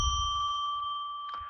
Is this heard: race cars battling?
no